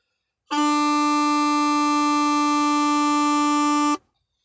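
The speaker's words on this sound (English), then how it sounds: "on this bagpipe chanter, it would sound like this." An uilleann pipes chanter holds one steady low D note for about three and a half seconds, loud, reedy and buzzing, starting and stopping abruptly.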